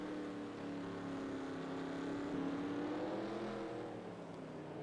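Race cars in NASCAR Racing 2003 at Mexico City, a continuous droning engine whine held at steady pitch with slight rises and dips, several cars blending together at moderate distance with no talking.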